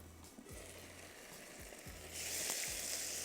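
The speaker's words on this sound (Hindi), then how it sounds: "राई का बघार डाल देती हूँ" Mustard seeds crackle and sizzle steadily in hot oil as a tempering is made. A few soft knocks punctuate the sound, and the frying grows noticeably louder and brighter toward the end. No one speaks.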